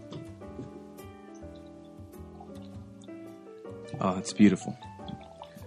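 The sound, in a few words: Lobos Texas Lager beer poured into a glass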